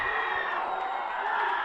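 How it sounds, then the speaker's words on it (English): Crowd at a pre-season St Albert's rugby match cheering and shouting wildly, a steady, excited roar of many voices with high whoops, heard at a moderate distance. "The Albies crowd absolutely going crazy"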